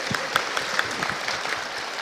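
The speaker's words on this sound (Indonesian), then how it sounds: "Aplaus dulu untuk Mas Abrar" An audience breaks into applause for Mas Abrar at a formal gathering with a minister, a steady patter of many hands clapping at moderate loudness for about two seconds, with no voices over it.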